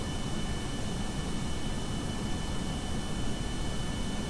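A jet aircraft engine in Kerbal Space Program roars steadily as the plane slowly climbs. The drone is constant and broadband, with a faint high tone running through it and no talking.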